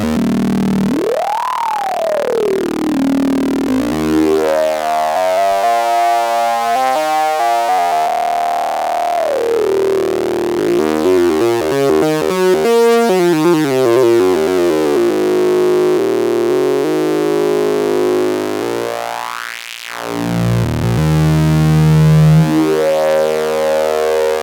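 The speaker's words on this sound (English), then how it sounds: "I'll show you just how this filter sounds real quick" Synthesizers.com modular synth high pass filter on a home-built system, sweeping a loud, steady synthetic tone whose pitch and brightness glide up and down, with buzzy resonant sweeps and chirping swells, no voice.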